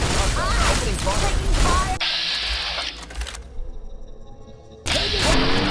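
Gunfire in Fallout: Tale of Two Wastelands, heard as a dense, loud burst of shots at the opening and again at the end, with quieter mechanical clatter and combat noise between them.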